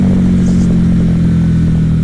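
A 2016 Harley-Davidson Night Rod motorcycle engine rumbles loud and close, a steady deep idle with slight fluctuation and no talking over it.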